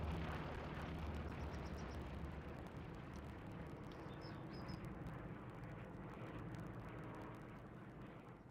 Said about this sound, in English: Recon plane coming over midpoint.